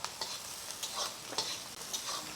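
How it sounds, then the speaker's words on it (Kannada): Onions frying in oil in a pan in a clean hotel kitchen, a steady crackling sizzle with bursts of stirring scrapes, close and continuous without voices. "ಇದು ಎಣ್ಣೆಲಿ ಫ್ರೈ ಆಗಬೇಕು, ಚೆನ್ನಾಗಿ ಫ್ರೈ."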